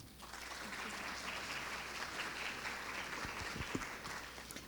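Steady audience applause fills the room as a speaker named Leslie Carpenter is welcomed at a talk, a dense, even clatter of clapping hands holding level for several seconds.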